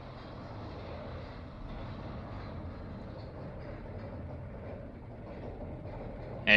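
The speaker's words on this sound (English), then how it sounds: "Got custom audio for it, literally taken from Thunderation's Lift Hill." Roller coaster lift hill from Thunderation recreated in a Silver Dollar City game, a steady low rumbling chain drone with a faint rhythmic clatter, continuous and moderately distant throughout with no talk.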